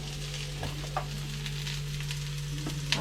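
Mussels fry in coconut oil in a pan under a constant close sizzle, with a few light clicks and scrapes from stirring and no voices.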